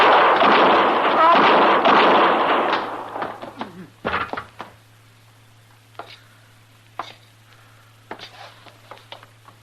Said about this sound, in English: You killed both of them, Mr. Dillon. I didn't even get a shot off